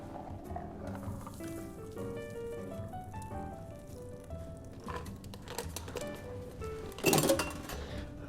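A Corpse Reviver cocktail is double strained into a glass, with faint liquid trickling and soft clinks of metal bar tools against glass under quiet background music, ending in a brief louder rattle.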